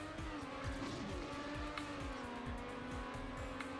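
A race car in Trackmania accelerates hard with a steady high engine whine, repeated quick gear or bump sounds and occasional tire squeals, loud and continuous with no voices.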